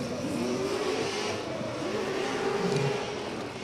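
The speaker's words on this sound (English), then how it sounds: "Scream the car coming down the straight there. V8 absolutely roaring." A V8 drift car roars down the straight at the Oman International Drift Championship 2024 qualifying, its engine note loud, steady and climbing in pitch as it accelerates, heard alone without talk.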